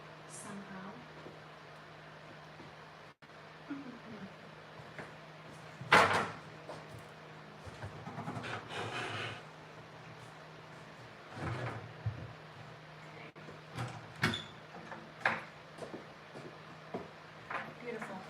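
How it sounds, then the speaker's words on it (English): A cabinet door creaks and knocks as it is opened during furniture restoration, a few soft thumps and clatters at moderate distance, with someone speaking quietly at intervals. "I'm gonna move it so I can open the door"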